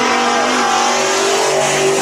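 A race car takes a fast hot lap at Bakersfield Speedway, its engine loud and close with a sustained high whine that shifts in pitch as it passes, and the tires hiss underneath.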